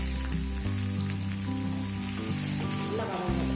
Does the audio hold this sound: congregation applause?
no